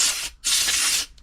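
Compressed air from a compressor blasting in two hissing bursts, a short one and then a longer one, with a brief pause between them, loud and close.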